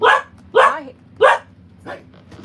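A puppy barks four times in quick succession, close and loud, the last bark softer and shorter, with a faint indoor hum underneath.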